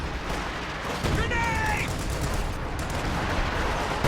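Gunfire crackles through a World War II strategy game battle, with massed infantry and paratroopers fighting as a rifle grenade goes off, a dense rattle of shots with a short whistling tone in the middle.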